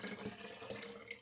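Water splashing around inside a glass jar during a quick rinse, a soft, close swirling and trickling sound at low volume.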